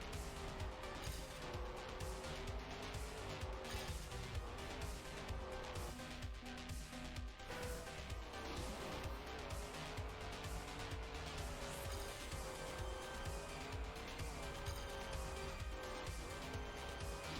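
A car in the racing game Trackmania drives continuously, its engine droning and rising and falling in pitch with steady tire noise, close and loud throughout with no talking.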